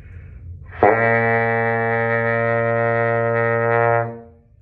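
A single sustained low trombone B-flat, steady and full, held for about three seconds before fading out.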